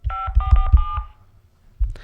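Touch-tone keypad beeps from a Motorola Razr flip phone, four quick tones tapped close together, followed by a short quiet pause and a soft rustle.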